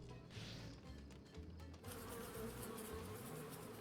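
Bees buzzing in the video game Deponia Doomsday, a continuous close droning hum that swells slightly partway through, with no talk.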